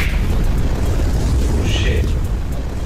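An explosion sound effect plays as a loud, sustained rumbling roar with broadband noise, filling the whole stretch without letup.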